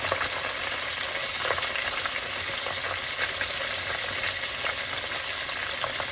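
Thick pieces of fish frying home style in a pan, giving a loud, steady, continuous sizzle and crackle close up with no talking.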